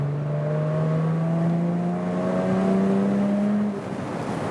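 A Jaguar F-Type V6 roadster, a 2017 MHD model, pulls hard in third gear from about 70 to 110, its engine note climbing steadily in pitch for several seconds before easing off, loud and continuous.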